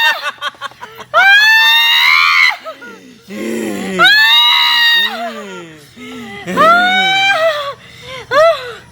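A person screams loudly again and again in long, rising, wavering wails with short breaks, close by. It sounds frantic.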